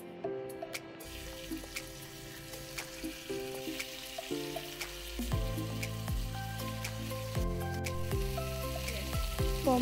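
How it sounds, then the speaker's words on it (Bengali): Pomfret fish frying in a spoonful of mustard oil in a hot pan, a steady close sizzle that grows louder and denser partway through, with faint clinks and scrapes over it and no talk. "এইবার প্যান গরম করতে দেব, তাতে দিয়ে দেব 1 চামচ সর্ষের তেল। তার মধ্যে মাছটাকে ভাজতে দিয়ে দেব।"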